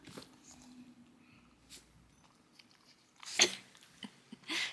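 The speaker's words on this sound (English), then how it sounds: "Poe, do you have to be chewing on your bone right now" Poe the dog gnaws on a bone close by, with soft intermittent crunches and wet chewing, and one sharp louder crack near the end amid quiet room sound.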